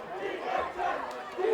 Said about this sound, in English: This DeSoto crowd starting to get into it a little bit